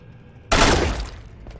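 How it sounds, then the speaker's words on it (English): A single loud pistol shot from a video game cracks out sharply, then decays over about a second. "It's just such a good pistol."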